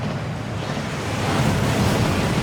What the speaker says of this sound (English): That waterfall washes away all enchantments.